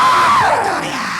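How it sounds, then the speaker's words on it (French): People cry out loudly together during a deliverance service, a sustained wailing yell from a crowd that slowly falls in pitch, near and strong throughout. "J'entends un cri."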